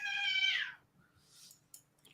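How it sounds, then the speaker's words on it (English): A cat gives one clear, close meow that rises then slides down, followed by quiet soft rustles and a faint short click. "Kitty!"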